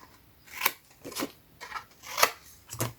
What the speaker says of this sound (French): On coupe.